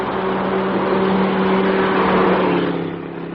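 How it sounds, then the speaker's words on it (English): A large German car passing on a lonely stretch of road, a steady mid-pitched engine drone with a constant hum that holds loud and close before easing slightly at the end, no voices. "there's a large German car coming up behind us"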